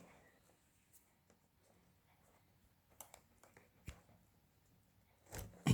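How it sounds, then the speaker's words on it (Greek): A zipper on a crocheted round backpack is drawn open in short, faint scratchy pulls and clicks, close and quiet, ending in a louder rustle. "Ας ανοίξουμε και το φερμουάρ για να μπορούμε να έχουμε πρόσβαση από μέσα"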